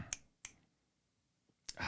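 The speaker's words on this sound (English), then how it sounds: "Why you snapping your fingers over seasoning salt?" Three sharp finger snaps ring out close to the microphone, two in quick succession and a third after a pause, crisp and brief against near-silence, at a seasoning salt chat.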